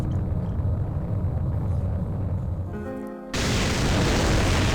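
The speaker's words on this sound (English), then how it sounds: "the dark shadow destroys the building as it grows" A giant dark shadow crushes a city building in the Live-A-Hero game: a heavy, continuous rumbling roar that shifts abruptly to a harsher, hissing crash near the end, loud throughout.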